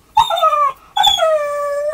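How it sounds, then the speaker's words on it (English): A small dog squeaking and whimpering, two close, loud, high-pitched drawn-out squeals, the second longer and falling in pitch, with no talking. "he's a squeaker. He occasionally does bark. So he does actually make proper dog noises, but most of the time it's this"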